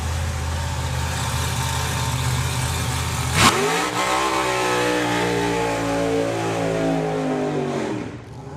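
A Lucky Devil drag racing car for Lucas Oil launches down the strip at Santa Pod Raceway during the FIA Euro Finals, a sustained loud engine roar that jumps sharply at launch, then winds up in pitch and fades as it pulls away.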